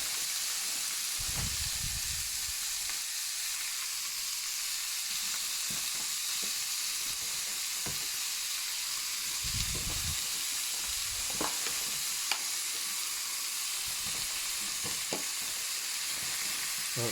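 Minced meat for moussaka fries in a pan with a steady, close hiss and sizzle, broken by brief bursts of scraping and stirring as the meat is broken up.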